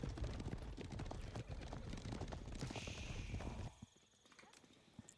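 A mass of cavalry hooves clatters in dense, continuous clip-clop during an Age of Empires match, loud and busy, with an occasional whinny, before the galloping thins out and fades near the end.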